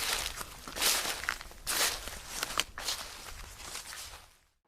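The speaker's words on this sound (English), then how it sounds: "he could faintly hear footsteps behind him" Footsteps crunch along at a slow, uneven pace behind a man sitting on a bench at night, each step a broad scuffing burst, fairly close, then fading out to silence at the end.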